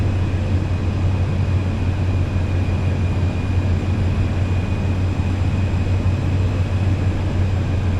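A Cirrus Vision Jet taxiing on the ground in Microsoft Flight Simulator 2024, a steady, even jet engine drone with a strong low hum and a faint high whine, unchanging throughout.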